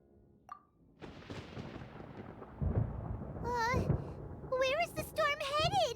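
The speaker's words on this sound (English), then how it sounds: "Paimon hears thunder!" Deep rolling thunder rumbles in Genshin Impact, building and lingering with heavy low booms, while high-pitched character voices chatter over the later part.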